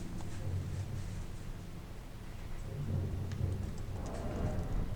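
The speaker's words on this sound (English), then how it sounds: "there's a pressure plate right there that activates some lightning bolts" In Elden Ring, a pressure plate triggers a volley of lightning bolts. A dense, rumbling thunder crackle rolls on with rain-like hiss and swells slightly louder toward the end.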